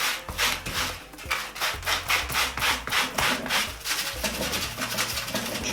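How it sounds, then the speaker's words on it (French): Steady back-and-forth rasping of a sanding tool scraping across trouser fabric to wear holes, loud and close, with rhythmic strokes roughly three per second and no talking. "je vais poncer le pantalon et normalement, ça devrait faire des petits trous"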